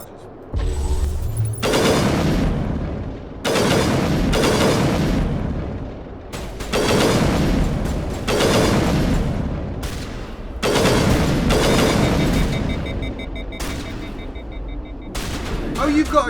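Shotgun blasts in Mass Effect 3 boom out in loud, spaced bursts, roughly eight heavy reports with ringing decays over about sixteen seconds.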